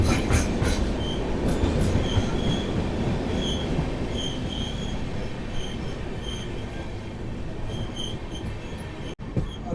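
An Indian express train runs downhill on the Bhagalpur to Mumbai route, with repeated brake applications bringing intermittent high-pitched wheel squeals over a steady rumbling rattle of wheels on track.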